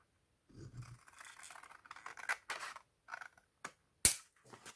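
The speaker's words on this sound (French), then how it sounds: "Je coupe l'autre côté." Scissors snip through paper while cutting the other side of a small scrapbooking pouch, giving a series of quiet, close, irregular crisp cuts with short pauses and one sharper snap near the end.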